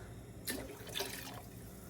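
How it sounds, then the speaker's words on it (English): Soy sauce, a full cup, is poured into very hot water, giving two short, soft splashing gushes at moderate distance with no talking. "I am going to add 1 cup of soy sauce"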